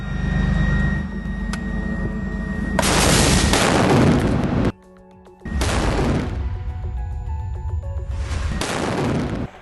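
Heavy blasts from an attack on a tank in Khan Yunis, Gaza: a sustained roaring burst of explosions and gunfire, a brief lull, then more loud, rumbling bursts.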